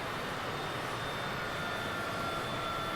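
Airplane engine in Microsoft Flight Simulator, a steady, quiet jet-like drone with faint whining tones and no clear change in pitch, heard alone without talk.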